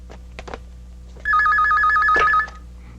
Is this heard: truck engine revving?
no